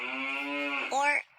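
Ox lowing in one long, loud, steady harmonic moo that rises and swells near the end before cutting off, close and alone with no voices.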